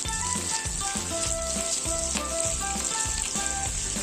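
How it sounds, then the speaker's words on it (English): Capsicum cubes sauté in a hot pan for soya chunks Manchurian, a loud, continuous close sizzle with rhythmic low thumps and scrapes of stirring, no voices. "Now we'll put the capsicum cubes even and again cook it for a few minutes. Just have to saute it."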